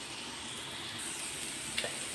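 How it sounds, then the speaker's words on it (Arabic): Onions with a little salt softening in a pan for a freekeh and liver dish, giving a steady, quiet sizzle with faint stirring scrapes and a small clink near the end, no voices. "هنزل على البصل بشوية ملح بصاد عشان يخلي البصلة تدبل معايا"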